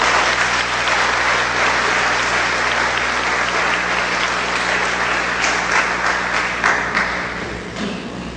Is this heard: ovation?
yes